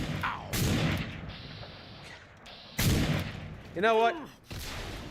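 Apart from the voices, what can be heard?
gunfire and explosion in the video game Fallout New Vegas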